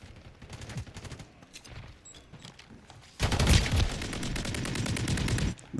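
Shotgun fire in Call of Duty Modern Warfare III: scattered shots give way to a sudden, loud, sustained barrage of rapid gunfire layered with other game combat noise.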